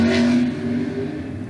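A motorcycle engine revs up nearby and then holds steady at a high, droning pitch, loud and continuous with no voices over it.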